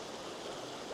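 Steady rushing water from a waterfall, a dense, even roar heard close up with no voices or other distinct sounds.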